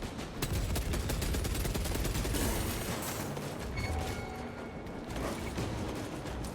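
Gunfire in the Warhammer 40,000: Space Marine 2 video game comes as rapid, dense bursts of shots and mechanical clatter, steady and loud for several seconds, with a few higher tonal effects underneath.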